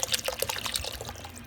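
Cream being poured into a pan for butter chicken, a soft liquid trickle and splash with wet, bubbly detail, close and steady throughout.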